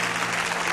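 Congregation applauding at a church worship service, a steady, dense wash of clapping from a large crowd with no pauses, filling the space evenly at close range.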